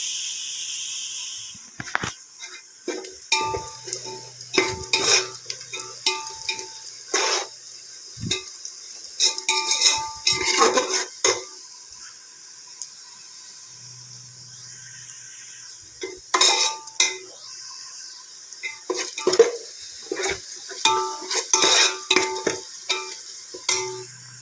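Onions fry for a biryani in a pot, with intermittent bursts of sizzle and stirring, metallic scraping and clatter against the pot, set apart by quieter gaps.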